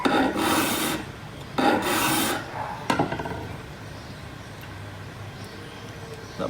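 A hand file rasps against the tip of a pair of pliers in two short strokes, then quieter scraping follows; close and fairly loud, with no talking.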